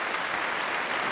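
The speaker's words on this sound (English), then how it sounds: "A round of applause is very much needed in this." A short burst of applause, many hands clapping densely and evenly at a fairly loud level for just over a second, with no talk.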